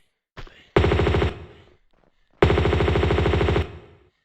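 Two loud, close bursts of rapid automatic gunfire from the Tomb Raider 2 Gold video game, each lasting about a second, with a short gap between them; the enemy is being shot at.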